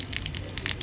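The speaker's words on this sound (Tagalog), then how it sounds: "Ayan, meron din gripo. Oh. Buksan natin." A public water faucet in a reopened park in Cisterna di Latina, turned on and gushing steadily, a short continuous splashing rush of water at moderate volume with no voices.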